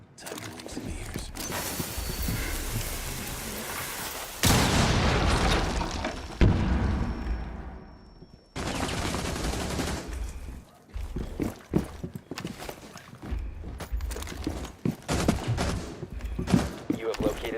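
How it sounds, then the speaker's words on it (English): Shotgun and other gunfire in a Rainbow Six Siege match, a dense string of loud blasts and mechanical clatter with booming hits and bursts throughout, layered over game effects. "Shotgun going live."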